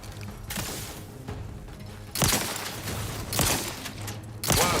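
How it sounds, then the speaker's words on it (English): Shotgun blasts in The Outer Worlds 2, three or four loud booming shots at irregular intervals over mechanical combat clatter and a low hum, with no talk. "Shotgun doing real damage."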